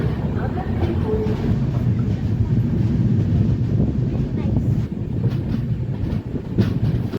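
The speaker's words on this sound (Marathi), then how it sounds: "आपल्या गाडीने नांदेड स्टेशन सोडले" An express train rolls along steadily after leaving Nanded station, a loud continuous rumble with rhythmic clatter and wind buffeting from close by.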